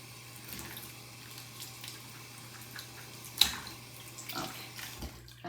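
Running tap water at a sink while makeup brushes are washed, a steady soft hiss and splash that continues throughout, broken by a few louder splashes and faint clinks, with no voices.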